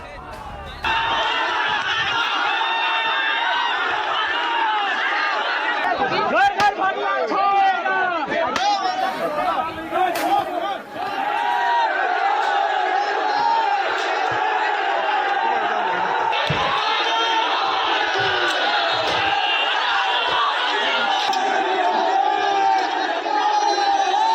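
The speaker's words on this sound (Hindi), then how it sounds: "लाठी डंडों से लैस भीड़ मकबरे की तरफ बढ़ गई और फिर पुलिस की मौजूदगी में जमकर उत्पात मचाया" A crowd armed with sticks riots at a tomb, with loud continuous shouting and chanting, a surge of clattering and cries in the middle, and a dense roar of many voices throughout.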